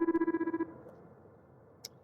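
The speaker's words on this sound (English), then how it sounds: "now we're going to answer the phone." A phone rings in the sci-fi repair video game The Lift, a rapid, pulsing electronic trill that lasts about half a second and then cuts off, leaving quiet room tone and a brief click near the end.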